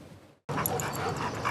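Dogs being walked on leashes in a film scene, with small yips and whimpers over a dense, steady background after a brief silent gap.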